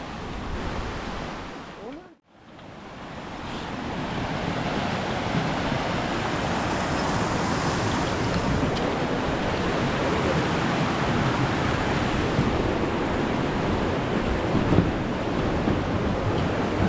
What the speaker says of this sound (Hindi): ये नदी शायद पंचतरणी से आ रही है।